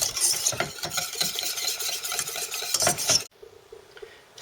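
Cheese being stirred into a mixture in a pan until it melts, a close, steady scraping and swishing of a spoon against the pan that runs for about three seconds, then stops abruptly.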